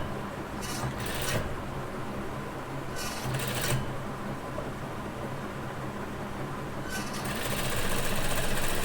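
A sewing machine stitches fabric for a baby frock, its fast, even needle rattle going on throughout at moderate distance, with a few short bursts of higher rasping noise now and then and no talking.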